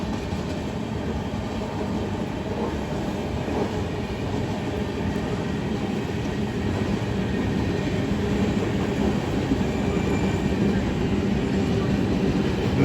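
Falaknuma SuperFast Express from Secunderabad to Howrah running at speed behind a WAP-7 electric locomotive, heard from on board as a steady, loud rolling rumble with rattling carriages and no letup throughout.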